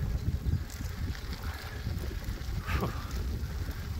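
Steady buffeting wind noise against a microphone while cycling downhill in northern France, a continuous low rumble with gusty swells, loud and close, with no talk.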